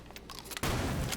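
Gunfire shot through a wall in the Rainbow Six video game, a sudden dense burst that erupts midway after a few faint taps and holds loud to the end of the brief moment.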